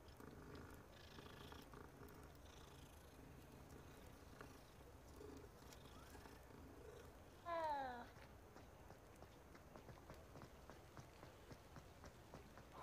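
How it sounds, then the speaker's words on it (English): A cat in the video game Hogwarts Legacy purrs softly while being petted, a quiet steady purr under faint game ambience, with a brief chirpy meow-like call partway through. "See a cat, pet a cat."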